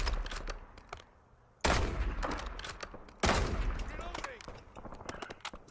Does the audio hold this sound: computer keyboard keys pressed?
no